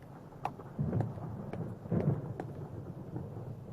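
Thunder from an approaching storm rumbles low and heavy, with rolling swells and a couple of sharper cracks over a few seconds, fairly distant and unaccompanied by talk.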